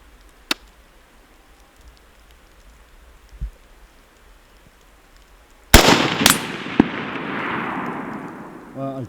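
Rifle shots fired outdoors at a range, a few sharp, loud cracks with a short echoing tail, the main shot ringing out in the second half after quieter scattered pops.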